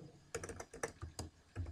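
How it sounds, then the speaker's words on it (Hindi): A command being typed on a computer keyboard during a computer class, about a dozen quick, crisp, uneven key taps up close, quiet and with no talk. "यहाँ पे कमांड टाइप करेंगे FD"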